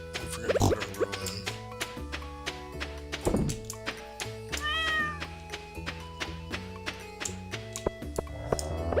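A pet cat in the farming game Stardew Valley lets out a short meow amid looping game music with plucked notes and soft percussive thunks.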